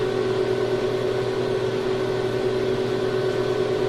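A 2500-watt ZVS induction heater melts more than 250 grams of copper in a crucible, drawing about 42 amps at 48 volts, and gives off a loud, constant electrical hum with a steady whining tone throughout.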